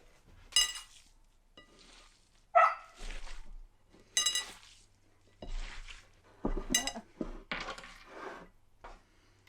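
Plates and dishes handled in a kitchen while cooking: several sharp clinks and clatters spaced a second or two apart, close by, with quieter shuffling between them.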